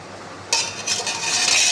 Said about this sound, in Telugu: పిండి కలుపుతున్నానండి